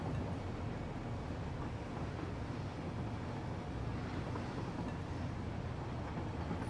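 A train runs in a video game, a constant dense rumbling roar with no breaks, heavy and unchanging for the whole stretch.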